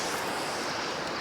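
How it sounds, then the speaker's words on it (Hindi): Ocean waves at Rabindranath beach in Karwar, coastal Karnataka, a steady broadband wash of surf with wind noise, continuous and fairly soft throughout, no voices. "कितनी अजीब बात है कि वेव्स की इतनी तेज आवाज़ है"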